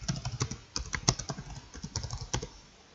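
Rapid, uneven clatter of keys as a short description is typed on a computer keyboard, close and clear with no talking.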